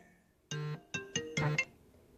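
A phone rings with an incoming call, sounding a short melodic ringtone of several tonal notes in quick succession, faint and alone with no voices.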